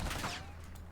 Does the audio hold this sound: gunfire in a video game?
yes